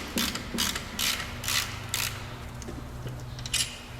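A ratchet wrench clicks in quick, repeated bursts of rapid pawl ticks while loosening the water pump bolts on a 2002 Chevrolet Cavalier, close and fairly loud over a low garage hum, with no talking.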